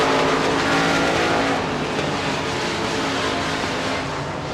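Modified race cars roaring around Devils Bowl Speedway in a USA Limited Modifieds race, including a V8 machine pulling away through turns 3 and 4; a loud, continuous engine drone of several cars with no break throughout.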